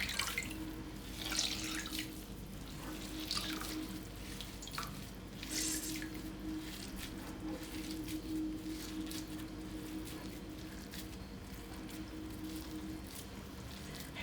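Soaked toast pieces squeezed by hand over a bowl, giving a steady trickle and splash of running water with a few louder dripping bursts, close and continuous.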